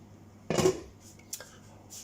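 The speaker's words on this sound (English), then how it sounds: "So now I'm going to put my trusty pan" A trusty frying pan is set down on a home stove with one clear metallic clunk, followed by a few faint clinks and a soft rattle, heard close with no talking.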